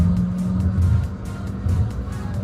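A car under 400 million rupiah accelerates hard from standstill toward 100 km/h, its engine a loud, close rumbling drone with rising revs that swell and dip briefly, with no talking.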